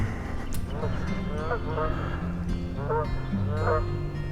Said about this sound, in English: Got a pair of Canadian geese out here.